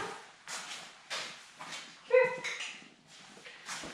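Diesel the dog barks at a neighbor's dog in a series of sharp, mid-distance barks and yips, spaced irregularly and steady in loudness, with no talking over them.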